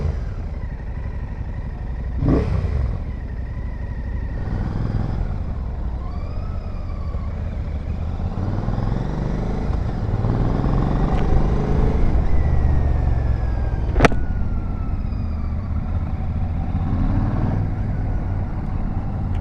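A Royal Enfield Shotgun 650 motorcycle with a modified exhaust is ridden, its engine droning steadily with rising and falling revs and passing whooshes from nearby traffic, heard without talk.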